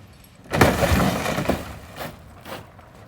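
Car window glass breaks while the roof is being cut off a car in a driveway: a loud crash with shattering debris, then smaller tinkling bursts fading out.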